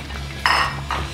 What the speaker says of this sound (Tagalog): Ilagay na yung okra.